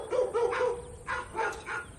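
Wild dogs on baboon territory give a few short barks and yips, close and clear, in two bursts with a short pause between, no talk over them.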